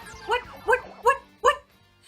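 A dog in Super Mario Odyssey barks four times in an even rhythm, each bark clear and close with a bright, video-game tone and short gaps of silence between them.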